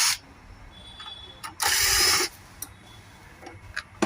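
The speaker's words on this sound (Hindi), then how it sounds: "खोलने के लिए इसके बॉटम में 2 स्क्रू दिए गए हैं, तो इनको मैं खोल लेता हूँ" Two screws being backed out of the bottom of a TVS RP45 thermal printer, heard as small close clicks and a burst of scraping, ratcheting screwdriver noise in a quiet room.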